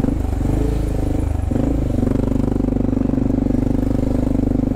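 A stock motorcycle ridden along while the rider wears a Helite Turtle 2 crash vest, its engine droning steadily and loudly close up with a brief dip in pitch like a gear change, plus rumbling wind noise and no talking.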